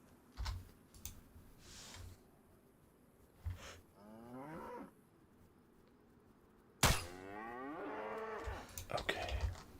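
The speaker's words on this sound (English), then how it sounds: "Right here, cow." A cow in the zombie survival game WildLandz moos twice, a drawn-out low call followed by a louder, longer one, with sparse keyboard clicks and a sharp thump between them.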